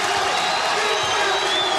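Steady crowd roar in a basketball arena at a West Virginia Mountaineers game, broad cheering and scattered whoops sustained evenly with no break.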